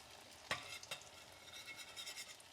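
Salmon croquettes frying in hot oil, a soft steady sizzle with a couple of sharp clinks or stirring knocks near the start, quiet and close with no talking.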